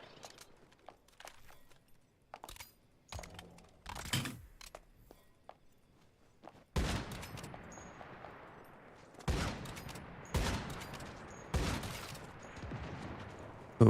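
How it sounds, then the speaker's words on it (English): Video-game gunfire from a distant shooter, starting as sparse scattered shots and building into dense, loud repeated volleys in the second half, with keyboard clatter mixed in underneath. "This man is shooting me from so far away."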